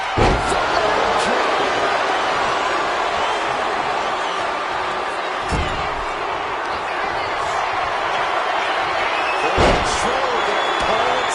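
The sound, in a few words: wrestler slamming opponent, from video game WWE2K25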